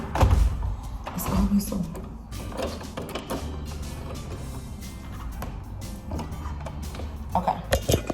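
A balcony door pulled shut and locked, with mechanical clunks and latch sounds near the start, then faint rattling handling noise while someone talks briefly.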